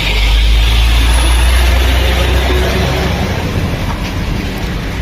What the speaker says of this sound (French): attention camion